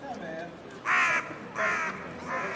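Crows caw in Père-Lachaise cemetery in Paris, three loud harsh calls in a steady rhythm standing out over a murmur of outdoor ambience and faint background voices.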